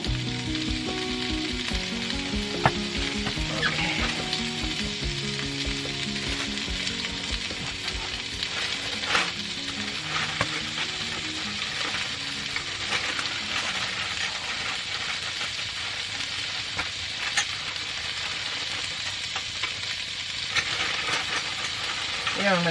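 Food sizzles and fries in pots on a camp stove inside a Viking tent in a forest, a loud continuous crackle broken by metallic clinks and scrapes as the pots are rotated, with brief speech.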